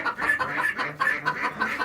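Pet duck Dolly on a small homestead, giving a run of quick, fairly loud quacks or clucking calls in short repeated bursts, close by with no talking.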